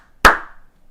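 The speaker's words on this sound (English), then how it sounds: "You're going to find that the claps come faster than before because now you're not clapping on quarter notes anymore" A single sharp handclap rings out once, close and loud, with a short decaying tail and silence around it.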